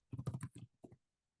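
Keys clatter on a computer keyboard as a command is entered on an Ubuntu machine: a quick burst of close keystrokes, a short pause, then a couple more taps before quiet.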